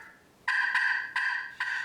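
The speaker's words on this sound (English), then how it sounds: "they just aren't hearing as much gobbling as they used to" A wild turkey gobbles in several rapid, rattling bursts, clear and fairly close, with no other sounds around it.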